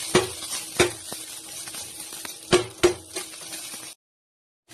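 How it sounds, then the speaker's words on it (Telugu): Vermicelli stirred and roasted in a small amount of ghee, with a steady soft sizzle broken by several sharp scraping clacks of a spoon against the pan, then sudden silence near the end. "సేమియా మొత్తం ఇలా వేసేసుకొని మంచిగా నేతిలో తిప్పుకోండి ఊరకు పైనే"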